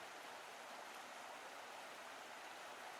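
Steady broadband rush of the Tagliamento, a braided river in Europe, flowing continuously with an even, hissing wash and no voices.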